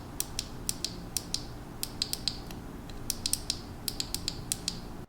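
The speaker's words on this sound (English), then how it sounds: "the button itself, at least on my device, is also this like cheap, high-pitched, clicky, springy button I've literally never seen before" A Samsung Galaxy A24 side button pressed again and again, giving sharp, high-pitched, springy clicks in quick irregular bursts, close and distinct over a faint background hum.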